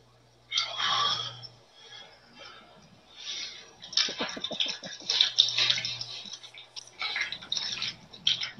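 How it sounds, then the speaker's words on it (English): A 24-ounce beer is poured straight, then chugged, with soft fizzing and liquid splashing, then a run of rapid close gulps followed by more bursts of pouring, with a low hum underneath. "So here goes a straight pour, 24-ounce chug."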